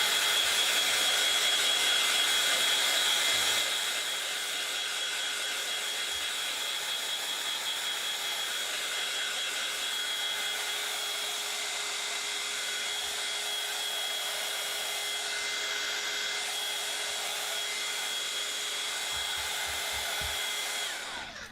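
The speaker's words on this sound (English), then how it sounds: "But it does save so much time having a heat gun." A heat gun blows steadily while drying a craft piece made with stoppers, wood and mesh, a loud continuous whine and airy rush that holds for about twenty seconds with a faint handling knock or two.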